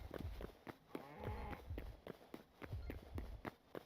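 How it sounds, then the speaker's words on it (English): An undead cow lows in Hytale, a drawn-out moo rising over steady game music and a string of soft footsteps, at moderate distance. "It's an undead cow."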